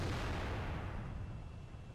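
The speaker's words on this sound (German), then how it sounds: "So, jetzt kommt ein Schuss von Mr. Gelbzock." A tank gun shot in the video game World of Tanks, a deep rumbling boom with low-end weight that fades away over about two seconds, with no talk.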